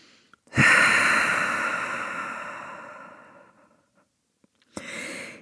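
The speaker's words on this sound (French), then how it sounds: "dernière grande expiration par le nez ou la bouche" Deep yoga exhale through the nose or mouth: one long, steady breath out that fades slowly over several seconds, then a short fresh inhale after a pause. No voice is heard.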